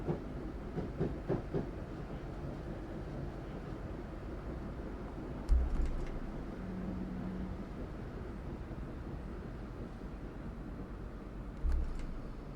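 A delayed Class 156 diesel train passes by on the line from Auburn to Queen Street, a steady rumbling roar with faint clickety-clack, plus a couple of brief thumps, heard from inside a waiting train.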